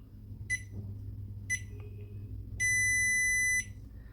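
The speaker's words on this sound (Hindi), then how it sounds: "2 शॉर्ट बीप, 1 लॉन्ग बीप" A Bluetooth smart BMS for a LiFePO4 battery beeps with a shrill electronic tone: two short beeps about a second apart, then one long steady beep lasting about a second, close and clear over low background hum.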